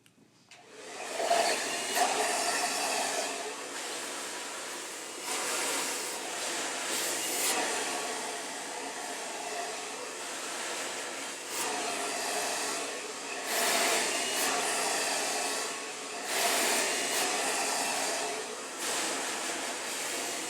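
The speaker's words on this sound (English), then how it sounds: "always away from the face when you're blow drying" A hair dryer blow-drying a client's hair runs as a steady, loud airy roar for the whole stretch, swelling and dipping as it moves around the head, with no talk.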